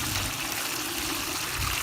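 Swimming pool water is scooped up and poured, making a continuous splashing trickle at close range with no voices.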